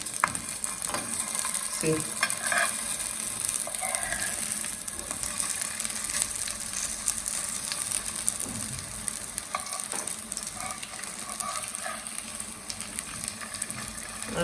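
Ragda patties fry in a pan with a steady, loud sizzle throughout, broken by occasional scraping and clinks as they are turned, with a brief spoken word.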